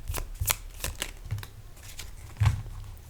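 Tarot cards being shuffled and drawn by hand, giving a run of soft papery riffles and flicks with a few sharper slaps, close up and fairly quiet, with no voices.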